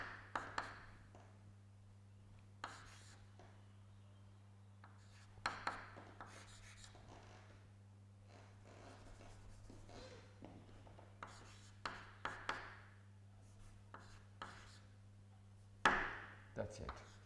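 Chalk or marker writing on a board in a mathematical modelling lecture, irregular scratchy taps and strokes in short bursts over a low room hum, quiet and close.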